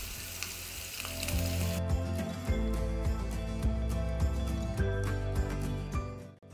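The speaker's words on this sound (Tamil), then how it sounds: "இப்போது எண்ணெய் நல்லா சூடாயிருச்சு. இந்த ஊற வச்ச மீனை இதில் சேர்த்துடலாம்." Marinated fish frying in hot oil with crushed garlic, a loud, steady close-up sizzle and crackle that runs the whole way through, with an occasional clatter of a utensil and a faint tonal hum underneath.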